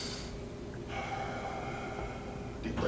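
Deep, audible breaths during a kettlebell squat hold: a sharp inhale, then a long airy exhale and a final short breath, close and fairly quiet.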